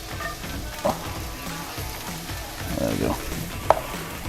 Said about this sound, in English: now we're gonna go ahead and drop in about half an onion, roughly half an onion